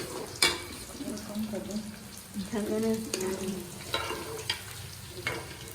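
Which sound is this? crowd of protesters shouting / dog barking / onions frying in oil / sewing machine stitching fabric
onions frying in oil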